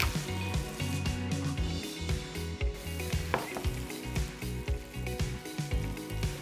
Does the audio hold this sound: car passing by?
no